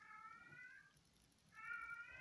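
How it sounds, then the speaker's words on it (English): A cat meows twice in an alley, a faint drawn-out call, a pause, then a second slightly louder meow, distant and quiet against low background noise. "this cat in this alley, this cat be saying, hello, hello"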